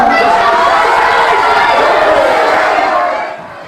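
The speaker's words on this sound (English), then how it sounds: "The protesters not only shouted down the prayer, but also caused a commotion during the Pledge of Allegiance" Protesters shouting down a prayer, a loud, dense roar of crowd yelling and cheering that holds steady, then fades at the end.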